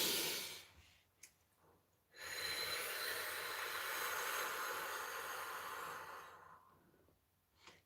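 One slow, deep breath, a short inhale followed by a long, steady exhale, close and soft in a quiet room, with a small sniff and some faint breathing before and after.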